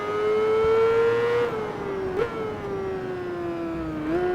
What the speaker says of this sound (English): I can definitely say these bikes use a lot of RPMs